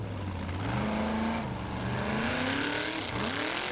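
A Formula Offroad car in an Icelandic competition at Egilsstadir, its engine at full throttle on a steep climb, revving loud and close with a rising, wavering pitch and losing traction, no voices.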